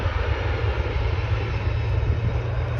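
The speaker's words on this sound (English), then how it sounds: "WestJet Q400 going to Kelowna." WestJet Q400 turboprop airliner passing at Vancouver International Airport, a loud steady engine drone with deep rumble and propeller hum, continuous and close, no voices.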